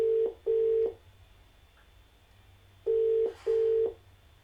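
A telephone rings out on a television call-in show: two pairs of short, steady ringback tones separated by a quiet gap, clear and close.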